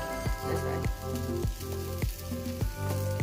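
Bitter gourd roasting in a pan in a home kitchen gives a steady sizzle and crackle, with a faint rhythmic tapping under the continuous frying hiss.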